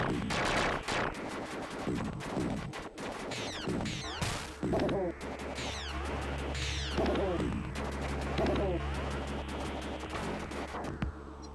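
Gun attacks in the Sega game Skeleton Crew: rapid bursts of retro gunfire with sharp blasts and zapping, sweeping effects over a pulsing game soundtrack, busy and continuous throughout.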